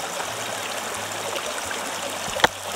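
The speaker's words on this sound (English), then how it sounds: "you need to slow down the water coming into those tubes." Water flows steadily through the tubes of a fluid bed gold sluice classifier, a constant close rushing trickle with a single brief clink near the end.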